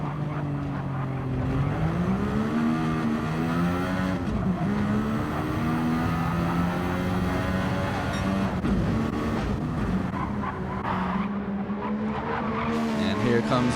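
A race car in a sim racing game at Interlagos screams through continuous high revs with shifting engine pitch and tire squeal, loud and sustained, with a commentator's voice running over it.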